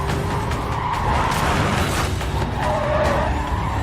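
Tires skid and squeal under hard braking on a car in the racing game Need for Speed Carbon, with a steady loud engine roar and a thin squeal running throughout, with no talk.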